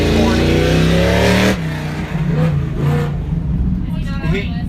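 An Ultra4 race car with a Tribe 16 chassis, stroked LS3 engine and TH400 transmission revs hard and close at the Wild West 100, its deep engine roar dropping off sharply after a second and a half into idle under voices.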